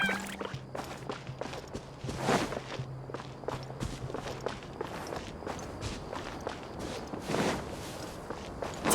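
Running footsteps on sand in Genshin Impact, a quick steady patter of soft crunching steps, close and moderately quiet, with no talk.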